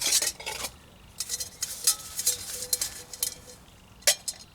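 A camping burner lifted out and set down on a ground sheet, giving a series of light metallic clinks, clatters and scrapes at close range, with one sharper knock near the end and no talk.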